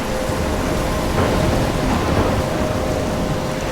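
A thunderstorm in the video game Life Is Strange: heavy, constant rain hisses while thunder rumbles low and dense throughout. It is loud and enveloping, and no one speaks.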